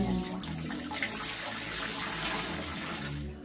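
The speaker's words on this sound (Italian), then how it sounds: "Lo strizzo qua e lo faccio cadere qui perché cadendo l'acqua si ossigena." Freshly dyed wool is wrung out by hand during a traditional dyeing workshop, and water pours and splashes steadily back into the dye bath in a continuous close, bright trickle with no voices.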